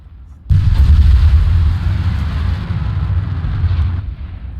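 Heavy deep boom of a weapon firing and a shell exploding in War Thunder, one sudden loud blast followed by a long rumbling roar that slowly fades.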